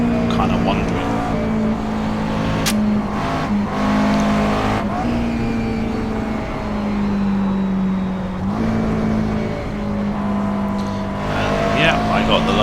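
A GT race car's engine drones and shifts pitch through a qualifying lap at Mosport in the sim game iRacing, steady and loud, with brief tyre noise and a voice talking over it.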